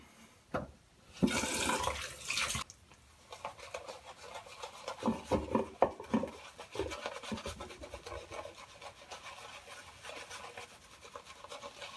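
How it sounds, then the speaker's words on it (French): Water splashes into a wet-shaving setup for a traditional shave with Razorock XXX, a brief gush lasting about a second and a half, followed by softer rubbing and lathering sounds with no talk. "Un peu d'eau."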